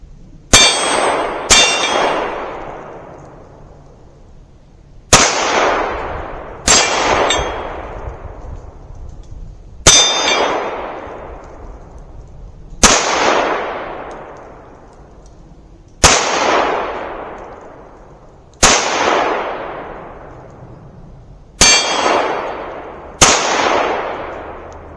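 Nine sharp 9mm pistol shots from a CZ-75 B, each ending in a bright ringing clang of steel plates, fired at an irregular pace over about 25 seconds, loud and close, with each ring decaying before the next shot.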